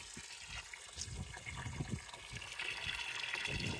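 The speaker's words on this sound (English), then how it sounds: "We're flushing it out." Water gushing and splashing steadily while flushing gunk out of a Hotsy pressure washer coil after a muriatic acid cleaning, a continuous mid-loud rush with uneven bursts throughout.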